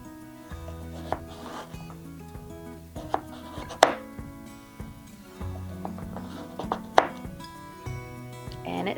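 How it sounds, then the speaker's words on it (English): Knife chopping horseradish on a cutting board: a run of sharp, irregular thuds and clicks, some loud and close, over a low background hum and faint music-like tones. "what we're going to do is just chop up this horseradish real quick"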